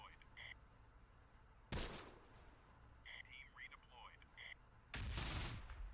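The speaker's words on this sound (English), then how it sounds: "there's an MG hereabouts" Machine gun fire in the Close Combat: The Bloody First wargame arrives as two sharp, loud bursts amid quieter distant gunfire and faint in-game radio chatter.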